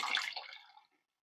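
Dissolved tamarind water poured into a soya curry makes a brief, close splashing trickle lasting under a second before it stops.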